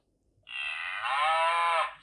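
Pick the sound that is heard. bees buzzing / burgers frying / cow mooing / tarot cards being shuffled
cow mooing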